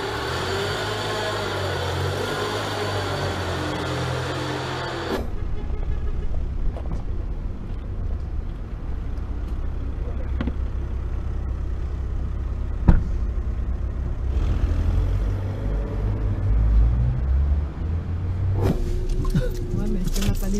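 Car driving toward the airport while running low on fuel: a steady low engine and road rumble with wind noise runs throughout, with people talking over it in parts.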